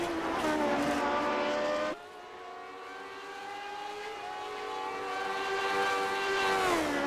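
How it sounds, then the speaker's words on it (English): A classic Lotus Grand Prix race car screams along the street circuit in iRacing, its engine note rising and falling steadily through gear changes before sweeping down as it brakes into a corner. "beautiful yellow car racing for that old Brazilian sponsorship there"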